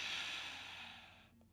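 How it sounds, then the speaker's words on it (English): A long, steady exhalation of a deep belly breath, close and fairly loud, fading gradually before ending in quiet. "exhale and try to squeeze it"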